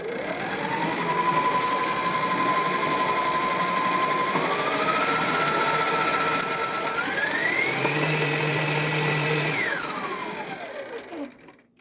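Electric mixer whisking eggs and powdered sugar into royal icing for sugar cookies, a steady motor whine that steps up in pitch across speed settings, then winds down and stops.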